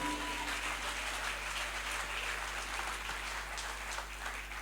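A church congregation applauds for David, a steady wash of clapping and cheering from a crowd, moderately distant and fairly faint, sustained throughout.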